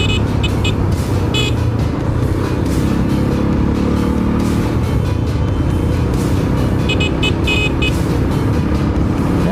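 Racing vehicles passing by on a road, heard as a loud, steady engine roar with wind buffeting throughout and a few high tonal bursts like horns or revving engines.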